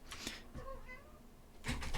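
A house cat meows softly, a short faint wavering call set between quiet rustling and bumps.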